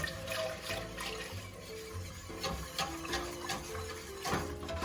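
Milk poured into a cheese sauce for homemade mac and cheese, a steady liquid splashing and trickling with light clinks, close by and continuous.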